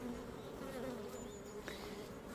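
Korean native honeybees of a yellow strain swarm around a hive, making a dense, continuous close buzz with a steady drone throughout.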